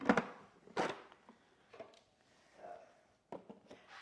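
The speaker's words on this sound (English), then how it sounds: "I'm going to close the lid." A Magimix Cook Expert food processor lid being shut, giving a sharp plastic clack near the start and another firm knock just before one second, followed by quieter handling clicks and a final click later on.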